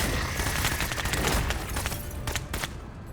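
Gunfire in the tactical video game Menace, dense, rapid bursts of shots and booms in a loud, continuous stretch that thins out toward the end.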